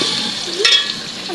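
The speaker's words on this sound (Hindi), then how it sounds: "ये अभी प्याज है जो ब्राउन कर रही हूँ मैं" Onions browning in a pan for a pumpkin and chickpea dish, a steady soft sizzle with a brief stir or scrape partway through, close and fairly quiet.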